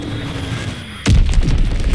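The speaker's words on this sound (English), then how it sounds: "Enemy bomb incoming! Get to cover!" A bomb explosion in Call of Duty WWII lands as a sudden deep boom after a quieter stretch of game ambience, followed by a rumbling tail.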